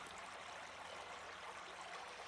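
Alum Cave Creek on the Alum Cave Trail, a steady broadband rush of flowing water with no breaks, soft and even throughout.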